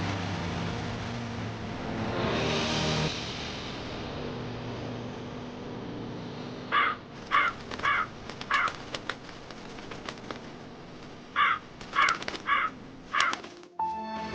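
Crows caw outdoors in a series of clear, repeated calls, some in quick pairs and triplets, carried over a steady background hiss. The cawing starts partway through and returns in a second burst later.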